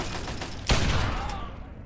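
A sudden loud burst of gunfire in the video game Fallout 3 cracks out once and rings into a decaying tail, close and alone with no talk.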